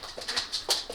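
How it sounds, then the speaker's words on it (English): A dog whimpering in a few short, high-pitched whines and yips, close by and fairly soft, spread across a brief moment. "And a nice little doggy."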